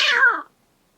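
A single short cat meow from a cat named Church, clear and close, fading out after about half a second into silence.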